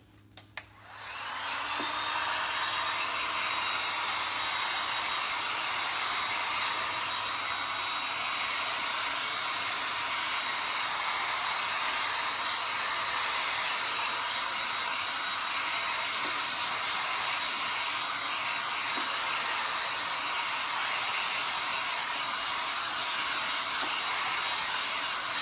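A hair dryer switches on and blows steadily to dry freshly applied craft transfers and stencils, a loud, constant airy roar that holds unbroken for the whole stretch after a couple of soft clicks at the start.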